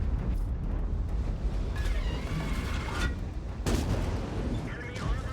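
Heavy tank gun blasts boom through a dense, rumbling battle soundscape in World of Tanks as HE rounds are fired, several loud reports landing a second or two apart under a constant roar of engine and combat noise.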